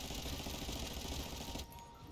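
Rapid gunfire from shooting enemies in the video game The First Descendant, a fast rattling stream of shots that stops abruptly near the end, faint and compressed.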